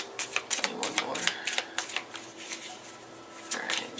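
Tarot cards riffle and shuffle by hand in quick, crisp bursts of flapping and snapping, close and clear, with a sharp louder riffle near the end.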